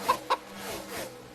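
Chicken clucking dropped in as a sound effect over a crash replay at a winter diecast car race, two sharp clucks near the start followed by softer trailing clucks, fairly faint with no talk.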